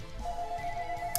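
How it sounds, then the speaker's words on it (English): A telephone rings in the background during a Pokémon battle tournament match, giving a steady electronic tone that holds through most of the moment at moderate level, with no talk over it. "Sorry if you hear the phone in the background"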